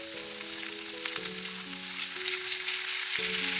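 Seasoning paste sizzles as it roasts in a pan, a steady hiss of frying heard close up under a faint, changing background melody.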